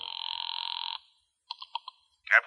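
A telephone in a radio drama, one long electronic ring followed by a few short chirping pulses, then a sharp click as the receiver is picked up, clear against a silent background.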